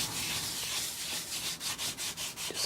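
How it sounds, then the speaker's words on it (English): Color is rubbed by hand into crinkled paper in an art journal, a close, dry scratchy friction that starts as a continuous scrub and then turns into quick rhythmic back-and-forth strokes, with no voices. "Just gonna rub it all in."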